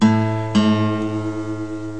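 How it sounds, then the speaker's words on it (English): A single plucked guitar A string, being tuned, rings out, then is plucked again and sustains, the steady pitch wavering slightly as it settles. "take your picking hand and tune the A string"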